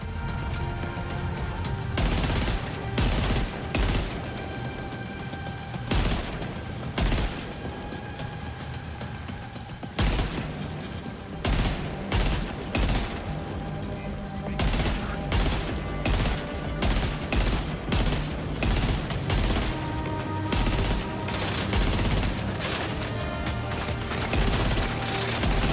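Heavy gunfire from big guns in Death Stranding 2: On The Beach, loud rapid bursts of automatic fire with brief pauses between volleys, sustained and close for the whole stretch, no talking.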